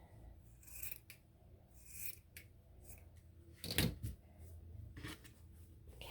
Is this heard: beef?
no